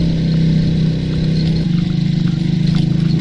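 A 70cc motorcycle carrying two riders labours uphill on the Rohri Hills, its small engine droning loudly and steadily, the pitch shifting partway through as it pulls, close and without talk.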